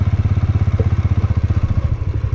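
A motorcycle idles close by at a cricket ground in Hoper Valley, Nagar, Gilgit-Baltistan, its single-cylinder-style engine thumping in a loud, steady, rapid pulse with a slight clatter, no speech over it.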